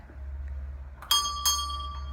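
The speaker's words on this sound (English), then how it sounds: "and a bell" A bell rings inside a windmill, two bright metallic strikes about a third of a second apart with ringing overtones that linger, heard over a low steady hum.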